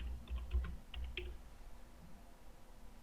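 Computer keyboard typing, a short burst of clustered key clicks near the start with a few more strokes just after, then quiet room tone; no talking.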